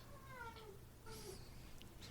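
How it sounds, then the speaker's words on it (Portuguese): A pet cat meows to call its owner, making a few faint, drawn-out meows with wavering pitch that sound close by in a quiet room. "Espera só um pouquinho que meu gato tá me chamando"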